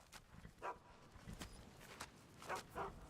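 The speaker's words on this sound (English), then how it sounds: "trained war dog, fiercest companion money can buy." A trained war dog in the video game Tempus Maledictum gives a few short, fairly faint barks in scattered bursts over a low background.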